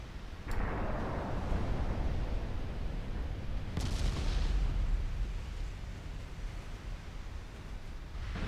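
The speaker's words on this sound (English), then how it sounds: "there is some fire coming at us, presumably from the heavy cruisers" Heavy cruiser naval gunfire in a Japanese campaign warship game, with two sharp booming salvos followed by long rumbling decays over a loud, constant roar of battle noise.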